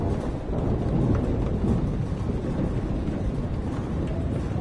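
A thunderstorm rumbles in the video game Life is Strange. Dense, steady low roar of rain and wind runs throughout, with a heavier swell early on and no voices.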